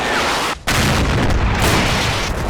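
A very loud gunshot in Combat Mission: Battle for Normandy, a booming blast with a sharp cutoff then another heavy roaring report that fills the rest of the moment, with no talk.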